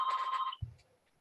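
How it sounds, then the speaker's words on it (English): A mobile phone rings with a short electronic tone lasting about half a second, then a soft thump follows and the sound fades to quiet. "I don't know how to stop this. I can't switch off this phone."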